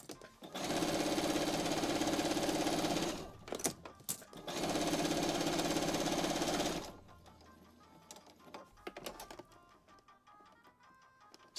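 A sewing machine stitches quilt binding in two long steady runs of fast, even mechanical whirring, close and loud, with a short pause between them and then quieter handling noises.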